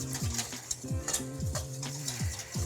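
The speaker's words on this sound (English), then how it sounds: "I'm gonna whisk so that these things combine" Ingredients are whisked together in a bowl, with a steady rhythm of repeated metal-on-bowl strokes clicking and scraping at close range.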